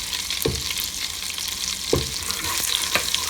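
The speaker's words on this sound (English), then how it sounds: "we are going to add our whole spices and cashew in" Whole spices and cashews fry in melted butter, a steady close sizzle and crackle with a couple of soft stirring knocks in the pan, no voices over it.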